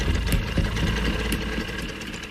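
Motorcycle engine idling steadily up close, a dense low rumble with a slight vibrating texture, loud and constant throughout.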